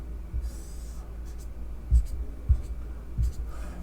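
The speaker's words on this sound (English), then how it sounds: "So let's start by drawing that graph." A pen scratches across paper while a graph is drawn, soft sliding strokes separated by several dull taps and pauses, close up and without speech.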